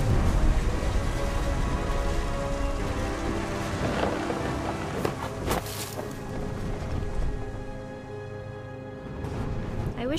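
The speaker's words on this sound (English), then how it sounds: "The thunder sounded much too close and full of angry power" Thunderstorm with steady rain in the game What Remains of Edith Finch, a dense continuous downpour with loud thunder crashes and rumbles rolling through the middle, no talk.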